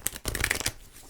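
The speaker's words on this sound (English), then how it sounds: "You can probably hear I'm shuffling my tarot cards right now" Tarot cards being shuffled close up, a quick crisp riffle of papery flutters lasting about a second after a brief pause.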